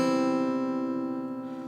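A single guitar note is picked on the second string at the first fret, ringing out clearly and sustaining alone while it slowly fades.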